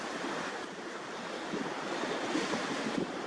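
Ocean waves washing in at a river mouth on the beach at Ulladulla, a steady broadband surf roar mixed with wind buffeting the microphone, continuous and moderately loud with no voices.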